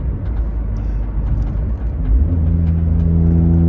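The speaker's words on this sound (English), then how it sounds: "it's kind of hard to record when you're driving a stick" Steady low rumble and whir from inside a manual-transmission car on the road, engine note rising slightly as it accelerates, loud and continuous with no talking.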